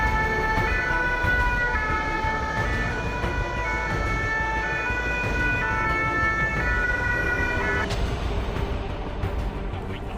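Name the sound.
fire service vehicles departing with sirens during a response-time drill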